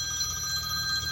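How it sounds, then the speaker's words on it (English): A telephone rings with a steady electronic trill that runs continuously through the short moment, indoors and moderately loud, with no one talking. "that phone's going to ring 2 or 3 more times before he gives up"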